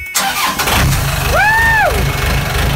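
A boat's engine, unused for eight days, cranks and catches, then settles into a loud, steady, close idle with a brief rising whine partway through.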